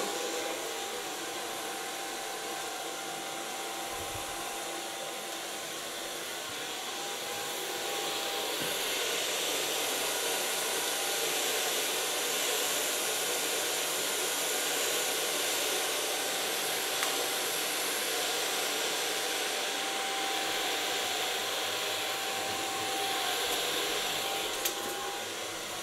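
A hair dryer blows steadily while hair is blow-dried, making a continuous broadband whoosh that swells a little partway through and carries no voices.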